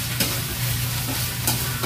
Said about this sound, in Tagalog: Ako nang gisa nga guys